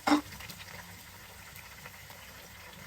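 Onions and tomatoes fry in a pan for a Pakistani achar gosht with Shan masala, giving a soft continuous sizzle and bubbling crackle, fairly quiet, after a brief clatter at the start.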